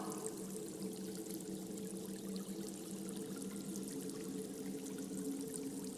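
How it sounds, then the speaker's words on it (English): Running water pours into a natural well in the game Willy Morgan, a steady, close stream with a constant burbling rush and no talk over it. "It's a natural well formed by the running water."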